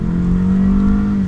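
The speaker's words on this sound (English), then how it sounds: "we're going to go from 0 to full throttle" A car accelerates at full throttle from a standstill during a used-car test drive, its engine droning as a steady, loud, close hum with no talk.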